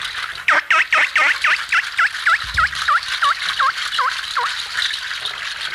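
A percussionist's hand instrument mimics a bird, a run of about fifteen quick chirping, gobbling calls that start dense and loud and gradually slow and soften, with a brief low thump midway.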